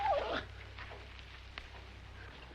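A dog gives a brief high whimper at the very start, then only faint rustling and quiet background noise follow.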